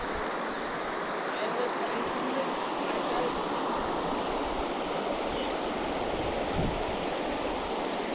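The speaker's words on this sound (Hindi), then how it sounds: "आप देख सकते हैं यहाँ नदी है" River water flowing at a riverside resort, a steady broadband rush and hiss of running water that continues evenly throughout with no clear voices.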